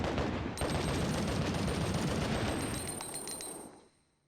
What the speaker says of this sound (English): you can shoot open the rocket launcher box without having to trigger Thanatos